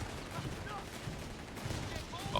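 Gunfire from British forces in Company of Heroes 3 rattles in steady bursts under a dense game battle mix, with a few sharper reports, moderately loud and continuous.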